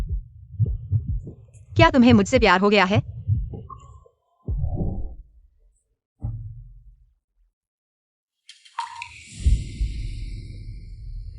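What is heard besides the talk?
fast heartbeat sound effect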